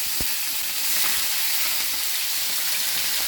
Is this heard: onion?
yes